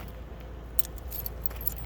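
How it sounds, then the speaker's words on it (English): Keys jangling faintly as they are pulled out beside an RV storage compartment, a few metallic clinks in short bursts over low background rumble. "I know I've got to get out my keys here and open up the"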